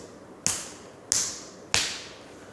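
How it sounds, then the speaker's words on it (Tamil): A hand taps the wrist in a massage routine, three crisp, close slaps in a steady rhythm, each cracking sharply and trailing off quickly, with no voice over them. "4 முறை தட்டுறீங்க."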